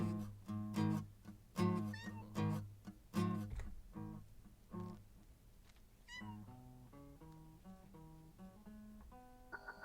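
Cats in a video game meow repeatedly, a run of clear, tonal, drawn-out calls in quick succession, loud at first and then softer, with no talking over them.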